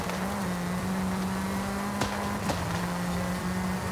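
Rally car engine in Forza Horizon 5 holding a steady high drone at speed, a sustained buzzing tone with a couple of brief gear-change blips and no talking.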